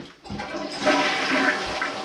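A toilet flushes close by, a sudden rushing surge of water that swells quickly and keeps roaring steadily to the end.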